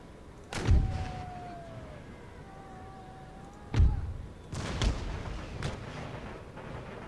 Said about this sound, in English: Where is that fire coming from? Damn it, there it is, that 12-pounder right there.